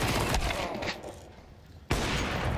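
Rapid bursts of gunfire in Counter-Strike crackle loudly, fade briefly into a quieter lull, then erupt again in a sharp volley of shots.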